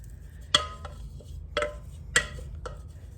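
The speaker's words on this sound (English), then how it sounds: "I'm trying to scrape all the goodness out of this pan" A utensil scraping and tapping inside a pan while cooking sour cream chicken enchiladas, giving four or five sharp, clinking strokes over a low steady hum.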